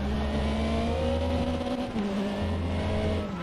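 Race car engine in the RaceRoom racing simulator, a loud sustained drone that drops in pitch and then climbs again, with a hint of tire noise, close and continuous.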